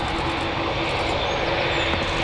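British Airways airliner engines at Newcastle Airport, a loud continuous roaring drone with a steady whine on top, sustained and unbroken throughout.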